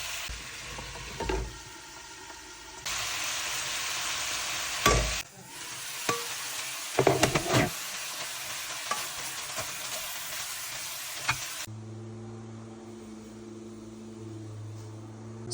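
Vegetables for noodles fry in a pan with loud sizzling, broken by clattering stirs and utensil knocks; near the end the sizzle drops away and a steady low hum continues alone.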